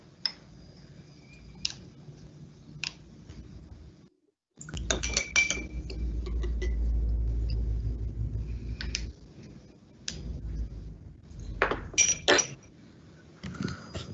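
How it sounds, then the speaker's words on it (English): Metal spoons clink sharply against ceramic coffee cups and are rinsed between cups while breaking the crust at a Timor Leste coffee cupping, with scattered taps and a stretch of running water in between. "take our spoon, give it a little rinse, and we're going to push the coffee back 3 times"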